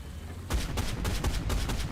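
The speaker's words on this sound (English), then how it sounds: "Get some shots into his back" Tank guns fire in War Thunder during a mid-tier Japanese tank battle, a rapid string of sharp, booming reports about a quarter second apart, loud and close, with no talk.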